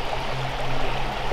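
Water of the River Veer in Normandy, running unusually low during a drought, flows in a steady close rush with no break and no voices.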